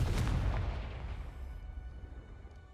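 A Confringo fire spell bursts in Hogwarts Legacy, a heavy booming blast that hits hard at the start and then rumbles away into a fading tail.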